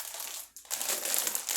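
A hard plastic bag of small pasta shells crinkles and crunches as it is handled, with loud, close rustling bursts around a brief pause.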